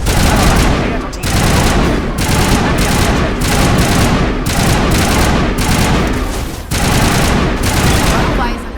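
Heavy video-game crossfire in Mass Effect 1 Legendary Edition during a fight against the Geth: dense, loud automatic gunfire pours on almost without pause, broken by a few brief gaps.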